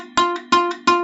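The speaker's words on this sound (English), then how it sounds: "On top of the fret sounds like this" Three quick plucks of a guitar string fretted with the finger right on top of the fret, each note short, close and dull, in an even rhythm.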